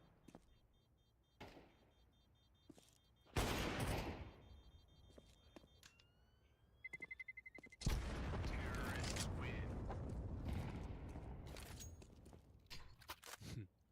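Gunfire and explosions in a Counter-Strike 2 match at the IEM Dallas 2024 tournament, Faze against Virtus.Pro: scattered shots, a loud blast, then a rapid burst and a long roaring blast, with commentators talking throughout.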